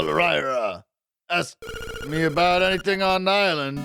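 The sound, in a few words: telephone ringing in Link's Awakening video game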